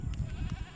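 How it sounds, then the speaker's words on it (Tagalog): Goats bleat in short, close bursts, several quick nasal cries overlapping within a moment, fairly quiet. "madami kasing kambing dito"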